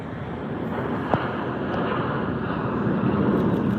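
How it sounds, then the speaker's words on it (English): A JetBlue Airbus A321 takes off at LAX: a steady, broad engine roar heard from a distance, holding level throughout with a brief sharp click near the start. "Got the very blue, jet blue A321 taking off."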